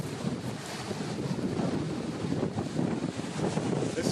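Ocean surf and gusting wind at St. Thomas, a steady broadband rush of waves mixed with wind buffeting the microphone, continuous and fairly loud with no voices.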